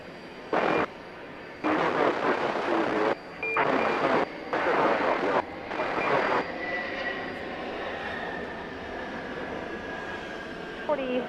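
A British Airways Boeing 777 rumbles steadily past at Atlanta airport at night, its broad roar holding under bursts of radio chatter and talk before fading into a lingering whine.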